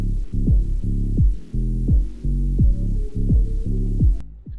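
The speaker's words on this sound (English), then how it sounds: "this alternative and slightly cursed version of the main menu music will then start playing instead" Cursed alternative main menu music from the game Gorebox: a heavy, throbbing low loop of repeating pulses with sliding downward tones, loud and unbroken until a sudden cutoff near the end.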